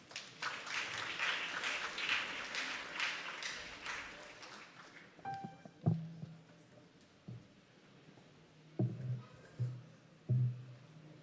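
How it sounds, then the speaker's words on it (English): A school audience at a secondary school graduation ceremony applauds the choir, with dense, moderately loud clapping for about five seconds that then fades into scattered knocks and shuffling noises in the hall. "Can we give the choir a round of applause, please?"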